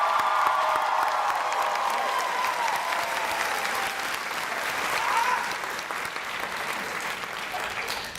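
Audience applauding teacher finalists at a Teacher of the Year event, sustained dense clapping from a large crowd filling the room, easing slightly toward the end.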